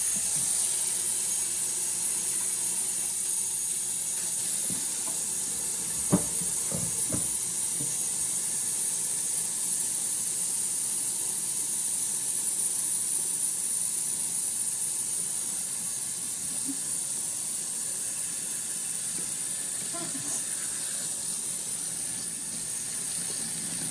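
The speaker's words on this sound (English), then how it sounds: "now I want to see you clean the dishes" Dishes are washed at a sink: running water hisses steadily throughout, with a few clinks and knocks clustered early on.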